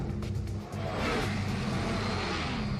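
A car engine revs hard and loud, a steady roaring drone with a brief dip early on before it surges back, and no voices over it.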